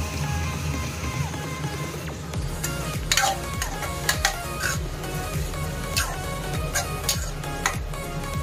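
Poha with chopped onion, tomato and green chilli cooks in a pan at home, a continuous soft sizzle broken by scattered stirring clicks and light taps of a spoon against the pan, close by, with no voices.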